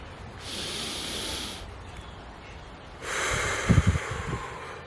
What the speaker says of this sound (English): Gotta take in that breath, that fresh air.